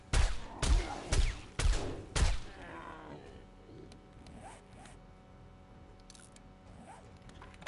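Gunfire in the 7 Days To Die video game comes as four heavy, evenly spaced booming shots, followed by quieter ambient rustling and faint noises.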